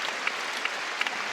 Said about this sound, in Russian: Трибуны начинали аплодировать.